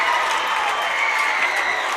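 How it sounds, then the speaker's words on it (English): A basketball crowd at a girls' game roars and cheers after a game-winning three-pointer, a loud, steady wash of voices and applause filling the gym without a break. "The crowd goes nuts."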